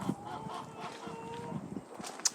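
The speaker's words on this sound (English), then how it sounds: "over there's the chicken house, chicken pen" Chickens in a garden chicken pen clucking and calling at a moderate distance, short fowl calls scattered over low outdoor background noise.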